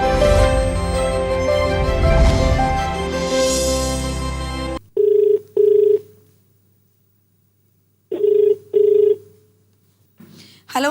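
Telephone ringing for an incoming call to the Malayalam radio show Swargavani. Music stops abruptly, then a bright two-burst ring sounds, pauses in silence, and repeats.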